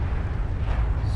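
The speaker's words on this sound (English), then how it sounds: "That was artillery shot." An artillery shot in World of Tanks lands as a heavy, low rumbling boom that fills just over a second, dense and sustained rather than a sharp crack, with no talk over it.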